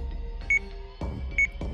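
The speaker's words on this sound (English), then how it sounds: "The alarm on my tear gauge began to go off." A tear gauge alarm in the game Sweet Fuse sounds two short, bright electronic beeps, evenly spaced, each with a thud, over a steady low hum.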